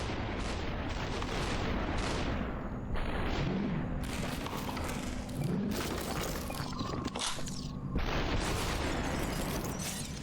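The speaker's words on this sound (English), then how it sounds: "That's an assault rifle." Assault rifle gunfire in the video game SUPERHOT, with sharp broadband bursts spread across the clip amid a dense, steady game soundscape.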